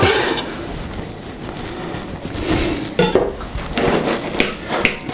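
A spoon clinks and scrapes against a bowl while tzatziki made from frozen kefir with dill is mixed. The scraping is steady and close, with several sharper knocks toward the end and no talking.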